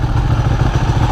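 A 2018 Ducati V4 Panigale engine runs with a steady low-pitched throb and light mechanical clatter, loud and close throughout, with no talk over it.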